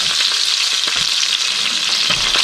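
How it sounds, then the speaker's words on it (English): A heavy one-pound hamburger patty frying in hot grease, a loud dense sizzle with sharp crackling pops and spatters throughout, no talking. "A heavy burger, flopping down hard in some grease and make it splatter all over you."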